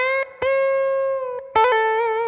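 An electric guitar driven through a Klon Centaur overdrive pedal rings out sustained, gritty notes, with a few picked note changes and a strong new attack near the end, loud and close with no talking.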